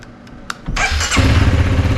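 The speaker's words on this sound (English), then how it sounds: "I'm gonna go ahead and start the bike." A Honda CRF300L motorcycle sits in neutral with the kickstand down. A few faint clicks come first, then the starter whirs briefly and the engine catches, settling into a loud, steady idle close by.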